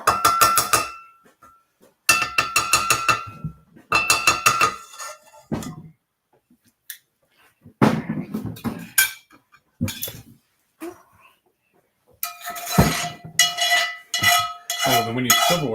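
Metal cutlery and dishes clink in repeated clustered bursts, close and fairly loud, with quiet pauses between them, during a casual dinner meal of keto carbonara with spaghetti squash.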